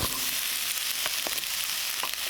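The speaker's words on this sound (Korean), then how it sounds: "기름을 넉넉하게 두르고 가지를 튀기듯 볶아줍니다" Eggplant being stir-fried in plenty of oil: a steady, loud, broadband sizzle throughout, with a few faint clicks from stirring and no voices.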